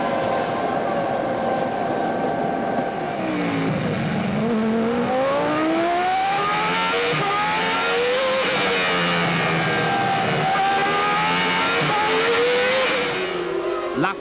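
1995 Formula 1 race cars accelerating hard toward a hairpin, engines screaming with rising and falling pitch sweeps as they pass close by, loud and continuous, with a crowd-like background wash.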